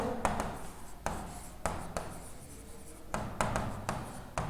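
A question being written on a classroom board: chalk or marker strokes in short scratchy bursts with brief pauses between them, close and fairly quiet.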